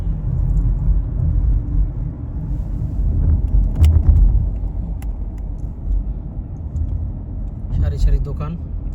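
Evening street traffic in Saudi Arabia along a row of shops: a continuous low rumble of passing cars and engines, with a few brief clicks and clatters rising above the road noise.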